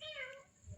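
A cat gives a single short meow, faint and slightly distant, rising then fading, in a quiet setting with low background noise.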